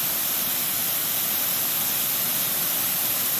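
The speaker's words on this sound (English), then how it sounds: "Man-made waterfall, but still." A man-made waterfall in the foothills roars as a continuous, loud, even broadband rush of falling water that stays steady throughout with no voices.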